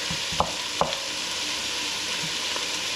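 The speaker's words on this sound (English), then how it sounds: "stir up your onions so they're fully coated in the oil that you put in there" Onions frying in oil for Japanese curry, stirred with a spoon: a steady sizzle runs throughout, with a couple of sharp scraping knocks from the spoon early on and a faint clack near the end.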